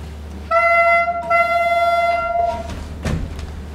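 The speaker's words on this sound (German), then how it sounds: "Oh, der Zug haltet." Train horn sounds in two long harmonic blasts, loud and close, over a steady low rumble of a stopping rail carriage.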